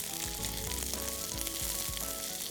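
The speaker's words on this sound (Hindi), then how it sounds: "Chicken, papers and chillies fry हो रहे हैं।" Pre-fried chicken pieces, bell peppers and dried red chilies sizzle in a hot pan, a loud continuous frying crackle with occasional stirring clanks, no voices.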